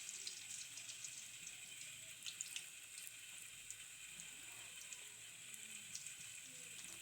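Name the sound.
cabbage pakoras being dropped into hot frying oil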